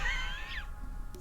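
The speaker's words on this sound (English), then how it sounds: "It's a cat." A single cat meows close by, a short, clear, drawn-out cry that falls in pitch and fades out within a second, alone in a quiet room.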